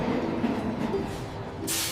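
A train rumbles steadily on rails, a continuous close hiss and low roll with a faint whistle-like tone near the start, ending in a brief brighter rush of air.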